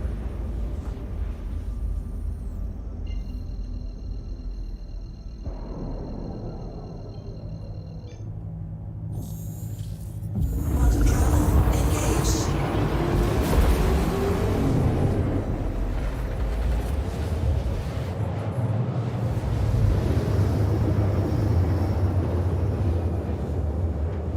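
A spaceship engages quantum travel in Star Citizen: a low electronic hum with a thin steady tone gives way to a sudden loud roaring rush that swells and sustains, rumbling heavily to the end.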